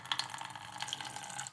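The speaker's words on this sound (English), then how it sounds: "the spigot is relatively low on the cauldron, so it should be able to dispense pretty much most of it relatively easily" Liquid runs from the low spigot of a plastic Halloween cauldron, a faint steady trickle with small splashy drips, close by and with no voices.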